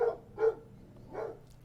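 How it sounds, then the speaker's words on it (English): A dog barks in three separate bursts, a couple of single woofs followed by a softer one, fairly quiet and set against a low steady background hum. "That's his dog."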